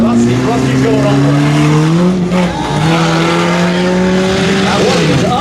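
Car going over a ramp at a Car Wars competition: loud continuous engine roar with rising and falling revs and tire noise, close and steady throughout, with a brief dip midway, crowd and voices mixed underneath.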